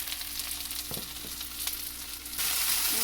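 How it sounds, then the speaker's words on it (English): Vegetables sauteing in a pan, a steady close sizzle and crackle with a few stirring clicks, rising a little louder near the end, with no talking. "So we're just going to let these saute a few minutes, and then I'll throw in the beans and let them cook."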